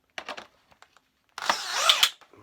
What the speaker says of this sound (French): Je vais mettre un petit coup de perceuse, de visseuse